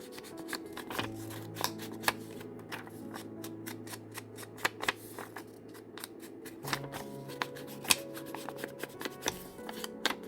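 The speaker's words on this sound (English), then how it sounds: "I'm going to ink the edges" Ink is rubbed and dabbed along the edges of a tab-bound paper booklet at a craft table, giving a run of soft close scuffs and short taps over a low steady hum, with no talking.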